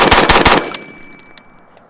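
Rapid burst of AR-15 rifle gunshots, several sharp loud cracks in quick succession for about half a second, then ringing decay and a faint distant pop.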